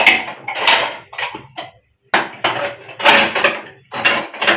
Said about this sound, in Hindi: टेबल के बर्तन रखिए, मैं आपको देती हूँ उनसे।